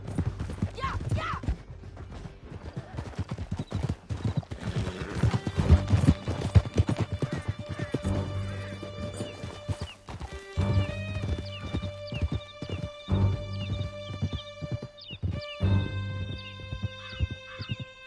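Horses gallop with steady clip-clop hoofbeats in the Red Dead Redemption 2 video game, with whinnies, swelling music and short bursts of voices and gunfire over the continuous loud ride.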